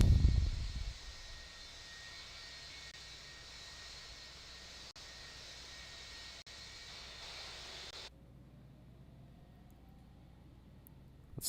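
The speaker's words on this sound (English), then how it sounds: "Let's start engine 1." Engine 1 of a jet airliner in Infinite Flight spools up with a steady whining roar and hiss that cuts to a quieter hum with a slowly rising tone, no speech.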